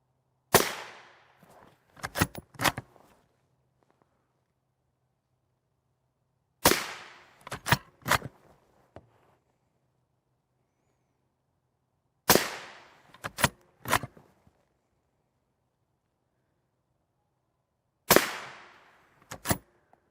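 Rifle rounds hit Militech NIJ IV Black Label monolithic silicon carbide armor plates during destructive testing, in four widely spaced groups, each a loud sharp crack followed quickly by two or three more, with near silence in between.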